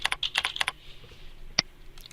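Typing a file name on a computer keyboard: a quick run of about eight crisp, close key clicks, then a pause and a single louder keystroke near the end.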